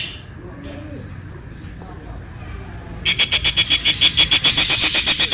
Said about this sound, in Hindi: देखो कितना ज्यादा चिल्लाने लग गई बजीस